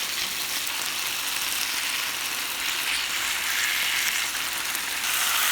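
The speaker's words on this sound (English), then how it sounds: "you can see the fat starting to fry up" Marinated pork pieces fry in masala, giving off a steady, close, loud sizzle with a dense crackling hiss that holds through the whole stretch, with no talking.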